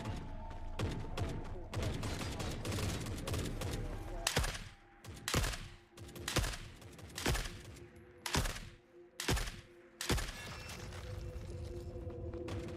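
Rapid gunfire bursts in the video game The Forever Winter, loud and close, a dense fusillade at first, then separate volleys with short pauses between them, and heavy shooting again at the end.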